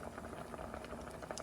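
Liquid bubbling at a boil in a pot during home cooking, a soft dense patter of small pops that stays close and fairly quiet.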